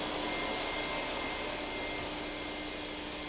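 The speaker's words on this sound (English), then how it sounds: "I vacuum out electrical boxes, heating ducts, and clean up around window openings." A vacuum cleaner runs continuously while cleaning out electrical boxes and heating ducts during drywall work, giving a close, steady broadband roar with no breaks.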